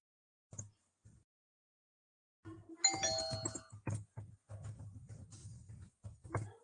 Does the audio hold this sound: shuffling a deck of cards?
no